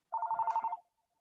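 A phone rings during an outdoor tree workshop: one short, faint burst of rapidly pulsing electronic trill, then quiet.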